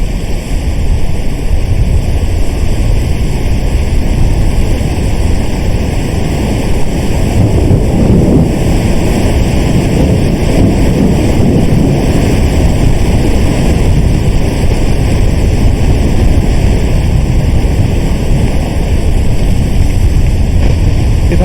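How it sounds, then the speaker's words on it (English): Big waves roll and crash against a sailboat at sea in the adventure game WILL: Follow The Light, a loud, continuous wash of surf and wind rumbling with no pauses. "Big wave, port side."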